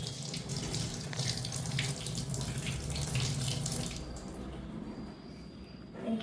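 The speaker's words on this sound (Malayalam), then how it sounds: "ആദ്യം നമ്മൾ മാങ്ങ കഴുകുന്നു" Mangoes washed under a running kitchen tap, a steady splashing stream of water hitting fruit and sink, close and fairly loud, easing off toward the end.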